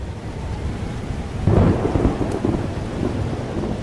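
Storm with thunder in the video game Life Is Strange Double Exposure: steady rain hiss underlies a loud thunder rumble that swells midway and rolls on, with no voices.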